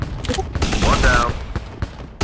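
Rapid bursts of gunfire crackle in the combat game Shadow Strike, dense and loud with repeated sharp shots and a brief tonal sweep in the middle.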